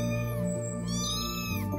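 A cat meows in a drawn-out, wavering cry, then a second shorter meow follows, close and loud over a bed of soft music.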